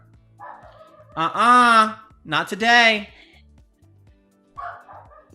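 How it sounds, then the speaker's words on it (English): A dog nearby lets out two long, drawn-out barks in quick succession, then a softer, shorter one after a pause, with a person's voice briefly heard. "This dog."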